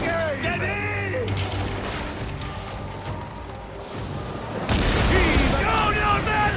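Galley weapons fire during a naval battle in Assassin's Creed Origins, heavy booms and bursts over dense battle noise and shouting voices, growing louder and harsher near the end.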